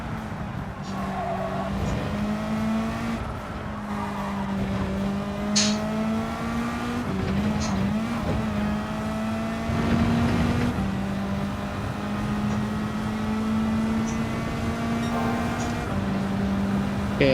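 A race car in Gran Turismo 7 drones through a lap with a steady engine note that rises and falls through the gears, with brief tire squeals under heavy load.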